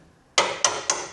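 Three sharp, loud knocks land in an uneven rhythm, each one clear and close, as a hammer drives suspension bushes into place on a Land Rover Defender during a full Super Pro bush replacement.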